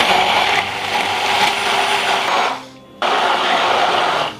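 A hand blender whirs steadily at close range while mixing mayonnaise with vegetable oil, the motor's drone and churning briefly fading and cutting out before starting up again at full strength.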